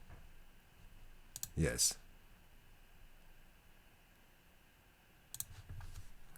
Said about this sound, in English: let me type the slogan